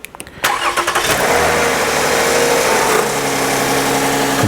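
A car engine in a shop cranks over and catches, then settles into a steady, loud idle with the air conditioning set on low, one quick start followed by continuous running with no talk.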